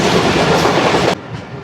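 The Shalimar Express rumbles loudly along the rails on its evening approach to Rahim Yar Khan railway station, a dense, steady roar of wheels and carriages that drops abruptly to a softer rumble near the end.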